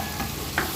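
Mushrooms sizzling in a pan over ginger garlic paste while being stirred, a short burst of close frying hiss with a faint scrape of a utensil, no speech.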